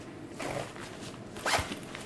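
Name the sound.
zipper on a fanny pack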